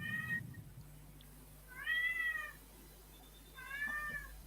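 A cat meows three times in separate, drawn-out calls spaced about a second apart, moderately close, over a low steady hum with no talking.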